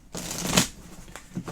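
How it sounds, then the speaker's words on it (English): Playing cards shuffled by hand during a solo board game of Birds of a Feather, a close run of riffling bursts with soft papery slaps and a brief pause between riffles, with no talking. "enjoy the sounds of cards being shuffled"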